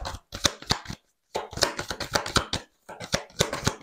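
Tarot cards being shuffled by hand in three bursts of close, crisp flicking and riffling, each separated by a short pause.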